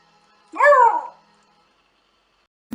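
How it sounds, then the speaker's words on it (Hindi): A barkless dog lets out a single short, yodel-like whining call with a rising and falling pitch instead of a bark, clear and close against near silence. "ये भी आवाजें निकालते हैं लेकिन बाकी कुत्तों से अलग, इसीलिए इन्हें बार्कलेस डॉग भी कहा जाता है"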